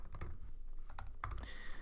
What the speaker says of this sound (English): my typing is not good